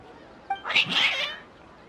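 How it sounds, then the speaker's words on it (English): Agitated cats meowing and yowling in a video game, a short burst of a couple of overlapping cries, close and fairly loud, with no one talking. "Your cats seem pretty worked up."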